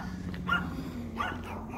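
A dog gives two short, muffled yips or whimpery barks about half a second apart, fairly close, over steady low background hum.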